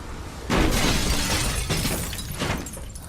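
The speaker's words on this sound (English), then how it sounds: "By breaking the glass" Glass shatters in the video game Beyond: Two Souls, one loud close crash followed by a spray of tinkling, scattering fragments over about two seconds.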